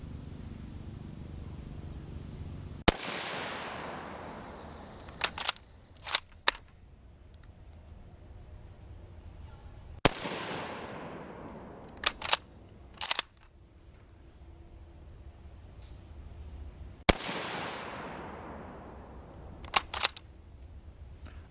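Three loud gunshots from a Mosin Nagant rifle, each a sharp crack about seven seconds apart with a long decaying echo. Each shot is followed by quick metallic clicks of the bolt being worked.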